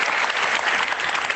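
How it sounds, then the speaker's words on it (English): A brief burst of lively clapping from a workshop audience, steady and close for just over a second. "Give yourselves a round of applause."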